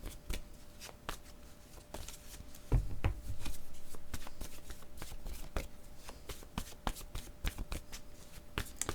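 A deck of tarot cards being shuffled by hand, with repeated crisp riffles and slaps close up, one louder thump early on, continuing in an irregular rhythm with no talking.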